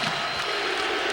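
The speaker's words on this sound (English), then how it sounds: "This crowd is going bonkers." A dense, roaring arena crowd cheers continuously at a college basketball game between Illinois State and Bradley, loud and sustained with no breaks.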